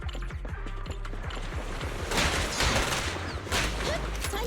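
Rapid bursts of gunfire from the video game Zenless Zone Zero crackle in quick succession, with a denser, louder volley toward the end, set against a low game backdrop.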